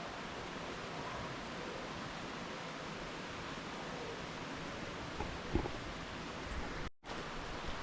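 A river in Tabanan, Bali flows as a quiet, even rushing hiss heard from a little distance, with a faint knock near the end and a brief dropout just before it closes.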